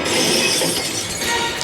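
Mirror glass shattering from a gunshot in the 1997 film Face/Off: a loud, dense burst of breaking glass that sprays steadily throughout, with a sharp extra crack near the end.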